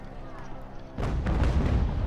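Cannon and artillery fire erupt in the game Ultimate General: American Revolution, with a heavy boom followed by a dense, sustained rumble of overlapping shots after a quieter opening.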